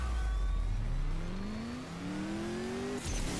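A car accelerates hard through the gears in a CSR2 drag race game, its engine note climbing steadily with a brief shift gap near the end, loud and continuous with no talking.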